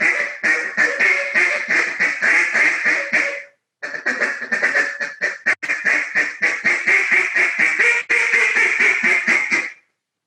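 A handmade, lightly tuned duck call blown in long runs of rapid quacks, loud and close, with a brief pause partway and a few sharper accented notes, no talking over it.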